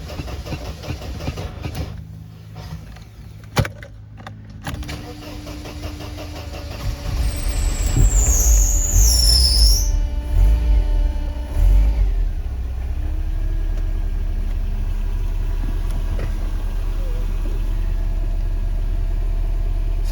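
A car engine cranks for an extended stretch with the gas pedal pressed, a labored, rising mechanical churn that catches and settles into a loud, steady idling rumble, with a few clicks before it.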